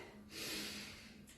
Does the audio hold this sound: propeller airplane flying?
no